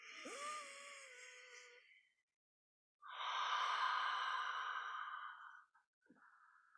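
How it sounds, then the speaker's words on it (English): Deep, slow breathing during a yoga session: a long audible inhale with a rising sigh, a pause of silence, then a strong sustained exhale lasting a few seconds, followed by a softer trailing breath, close and alone. "Let's do one more deep conscious breath."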